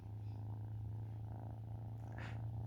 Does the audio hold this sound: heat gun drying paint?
no